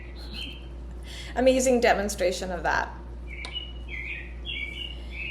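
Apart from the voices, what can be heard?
bird chirping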